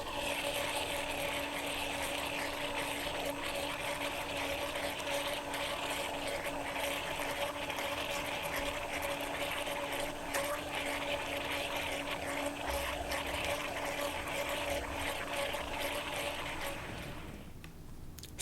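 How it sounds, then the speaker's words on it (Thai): A blender blending a mixture of peanut butter, vanilla and salt: a steady, continuous whirring drone that runs for most of the clip and then cuts off near the end, with no talking. "เราจะปั่นส่วนผสมทุกอย่างให้เข้ากันเลยค่ะ"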